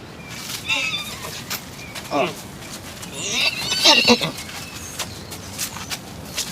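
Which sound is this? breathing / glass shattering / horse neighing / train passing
horse neighing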